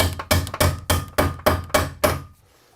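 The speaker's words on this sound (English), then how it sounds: "you know, the plier hammer," A plier hammer striking repeatedly while bathroom electrical wiring is being run, seven sharp, loud, evenly spaced blows close by with short ringing decays, then quiet.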